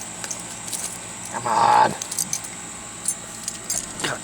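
A set of car keys for a 1999 Mazda Protege ES jangles as it is pulled out, a bright metallic rattle lasting about half a second amid faint handling noise, close up, with a brief spoken remark.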